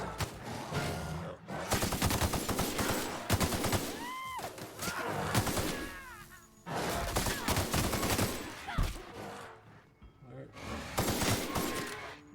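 Gunfire from a weapon in the video game The Outer Worlds, loud bursts of rapid shots in several clusters separated by short pauses, with background game sounds between volleys.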